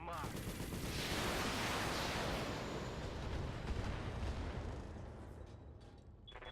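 Mech cannons and weapons in BattleTech fire in a dense, loud barrage of overlapping blasts and booms that roll on for several seconds before tapering off.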